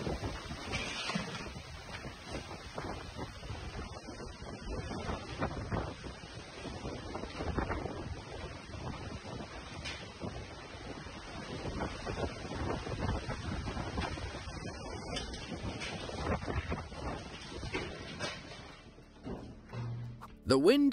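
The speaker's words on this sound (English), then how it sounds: "The wind picks up quickly in front of his house." Strong wind roars and buffets in front of a house, a steady rushing gust that swells and eases over twenty seconds, with faint voices under it.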